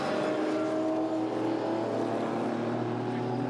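GT race cars at Snetterton, an Aston Martin lapping an older Porsche, give a loud steady engine drone across the whole stretch, a continuous mechanical roar with no clear pass-by swell.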